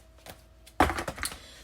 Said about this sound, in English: I'm going to shuffle some cards here too.